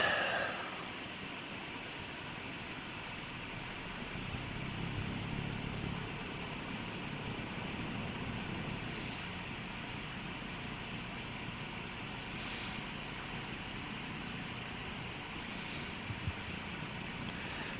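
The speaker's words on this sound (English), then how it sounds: "Engine starting." An aircraft engine in War Thunder starts with a brief initial whine, then spools up into a steady, faint jet-like roar that holds without much change, with wind noise over it.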